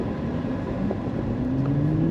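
A 2024 Nissan 400Z engine rev-matching through manual gear shifts, a loud, near, steady drone whose pitch climbs smoothly as the revs rise, heard from inside the car without voices.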